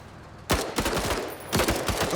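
Bursts of gunfire crack out in the video game Menace, a sudden loud volley followed by rapid repeated shots and a second heavy burst, all over a faint background hum.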